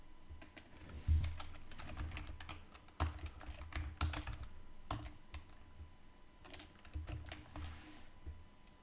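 Fingers tap out an IP address on a computer keyboard in an irregular, quick patter of close, soft clicks, with a few heavier key strikes standing out.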